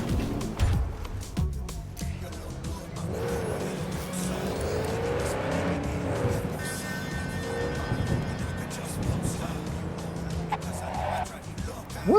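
Javelina car driving in the video game Cyberpunk 2077, a steady engine drone with tire squeal and skidding against traffic noise, someone talking over it throughout.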